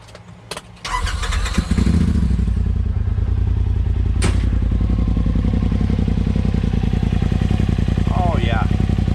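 A 2020 Polaris RZR Pro XP engine cranks and catches after a few clunks, then settles into a loud, steady, rapid idle rumble close by, with a brief voice near the end.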